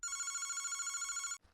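A telephone rings steadily and loudly with a trilling electronic bell tone for about a second and a half, then cuts off abruptly into quiet.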